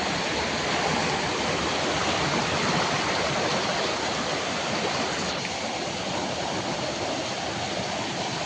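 River water rushes steadily and loudly, a continuous broadband roar with no pauses and no voices.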